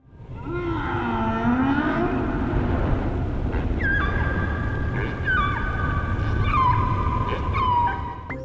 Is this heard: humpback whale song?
yes